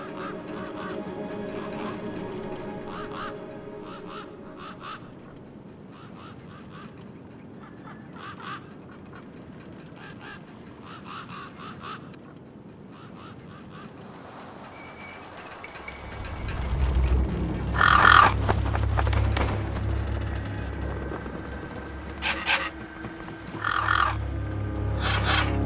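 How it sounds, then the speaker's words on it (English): Gang birds, scavengers in the wasteland of the game Beyond a Steel Sky, honking and squawking in harsh bursts that get louder partway through, over low rumbling ambience. "Then I heard them. Gang birds, scavengers"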